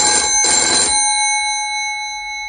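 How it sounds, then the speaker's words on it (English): A telephone bell rings loud and close in two quick bursts, then its tone lingers and fades over a couple of seconds, with no voices. "The telephone rings."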